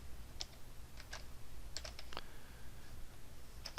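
Keyboard keys clicking in short irregular bursts as a material name is typed into Marmoset rendering software, close and fairly quiet with no voice.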